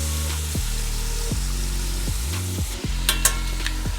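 Beef short ribs for honey miso short rib sear in a hot pan, a steady loud sizzle with periodic scraping and stirring sweeps and a few sharp clinks near the end.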